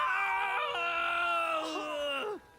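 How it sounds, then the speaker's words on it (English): Two brothers in an animated show collapse and let out a long, loud shared scream that holds steady, then wavers and cuts off abruptly near the end. "The brothers collapse and scream."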